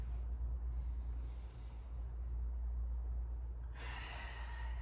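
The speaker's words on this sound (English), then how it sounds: "I like to inhale as I reach, exhale as I come down" Steady, audible breathing in and out during a stretching session, a soft continuous airflow over a low background hum, with a brighter, stronger exhale toward the end.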